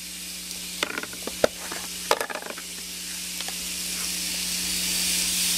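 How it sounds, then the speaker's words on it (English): Australian lamb searing on a hot grill, a steady loud sizzle and hiss with sharp crackles and pops in the first few seconds, then a smoother continuous frying sound with no talk. "you hear that searing?"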